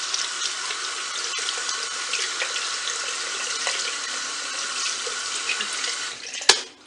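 Water runs steadily from a tap into a sink while someone rinses a powder purifying mask off their face, a constant bright splashing hiss ending with a sharp clack as the flow stops.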